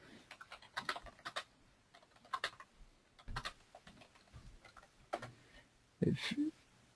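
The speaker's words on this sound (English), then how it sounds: "I'm just writing a chat here" Someone types a chat message on a computer keyboard in irregular bursts of quick, light key clicks at close range, with a few short pauses and one heavier thump near the end.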